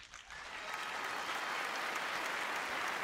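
Theatre audience applauding in encouragement during a poetry reading, a dense, steady wash of many hands clapping that swells in the first moment and then holds evenly, with no talking over it.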